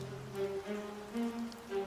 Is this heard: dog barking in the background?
no